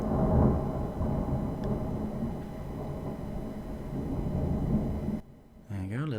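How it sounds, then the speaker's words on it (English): Low rolling thunder rumbles steadily for several seconds, a broad dull roar that cuts off abruptly before a voice begins speaking. "There you go, a little bit of thunder there."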